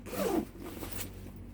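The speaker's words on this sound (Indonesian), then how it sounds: "Di sini ada zippernya ya" A zipper on a handbag's brown espresso lining is pulled in one quick close stroke lasting well under half a second, then quiet rustling follows.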